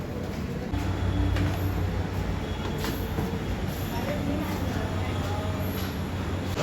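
A train rumbles past at Matunga railway station in Mumbai: a steady low roll of wheels and carriages with faint clatter, set behind street noise, with people talking nearby.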